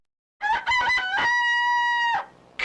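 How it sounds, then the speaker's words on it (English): A rooster crows from the Asterix CDTV video game: a loud, close cock-a-doodle-doo with a few choppy opening notes and then a long, sustained, tonal final note that cuts off cleanly. "It's cockcrow, you goose."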